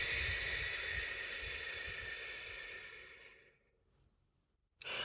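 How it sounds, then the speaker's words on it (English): A breathing exercise of two quick inhales followed by one long exhale, heard as a loud, breathy rush that slowly fades into near silence, then a short sharp breath at the end; no talking. "So double inhale and then exhale"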